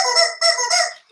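Rubber chicken prop used in a live percussive storytelling performance, squeezed to give three quick, loud, nasal honking squawks in a row, close up and with no talking.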